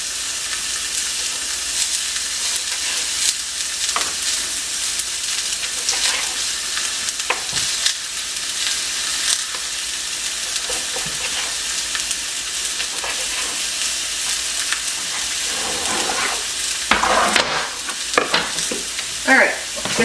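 Battered pieces of food sizzle steadily in hot oil in a pan, a dense continuous frying hiss with occasional stirring scrapes and pops, close and fairly loud throughout.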